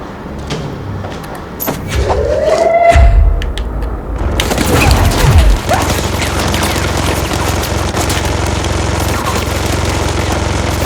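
Gunfire in the video game Control, bursts of rapid shots and heavy booming impacts around a mid-clip surge, followed by a loud sustained rumble of combat that stays dense and close to the end.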